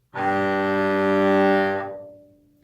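One long bowed note on the open G string, rich and resonant, sustained for nearly two seconds and then ringing away softly.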